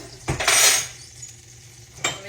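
A tablespoon scoops White Lily all-purpose flour from a container in a home kitchen, giving a short scrape and a brief clink, then a quiet pause and another faint tap near the end.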